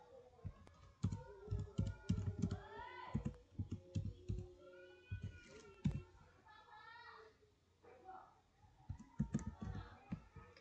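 Router commands are typed on a computer keyboard in bursts of quick, close clicking keystrokes, with pauses between runs and someone speaking over much of the typing.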